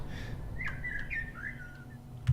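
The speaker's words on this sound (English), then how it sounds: "Have some birds chirping" Birds chirp in the video game Deltarune, a short run of bright warbling whistled notes over a low steady hum after the music stops, fairly soft and close.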